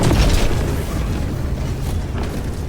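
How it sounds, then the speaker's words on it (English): An FRV vehicle explodes in a sci-fi video game, a loud close blast that spreads into a steady, dense rumble of debris and noise lasting a few seconds. "FRV's exploding."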